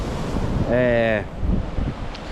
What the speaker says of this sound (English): all of these waves are like coming up to like here